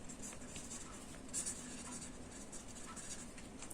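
Pen scratching across paper as notes are written during an anatomy lecture on the retropharyngeal space, soft continuous scribbling strokes at close range with faint background noise and no speech.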